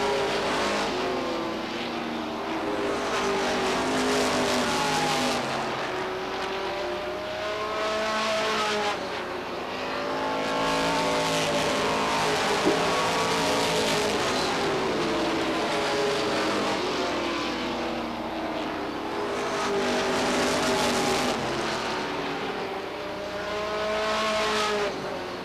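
Stock cars racing at Beech Ridge Motor Speedway in 1992, a dense pack of engines roaring continuously. Several cars pass close by, their engine notes rising and falling, with no one talking.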